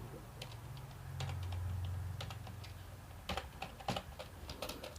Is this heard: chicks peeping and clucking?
no